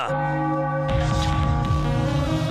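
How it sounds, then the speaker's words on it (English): A victory bell rings out after a Phillies win at the Texas Rangers ballpark, loud, resonant, repeated clanging strokes with a sustained hum. "Ring the bell."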